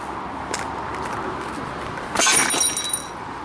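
Glass breaking during urban exploring, a sudden bright shatter with tinkling shards settling for about a second, preceded by a few lighter clinks against a steady background.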